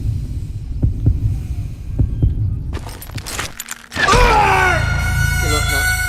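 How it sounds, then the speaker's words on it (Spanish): Heartbeat during a duel in Call of Juarez: Gunslinger, a low thumping pulse repeating under game noise and a voice before a loud tonal burst cuts in. "Cuando oigas tus latidos podrás desenfundar primero"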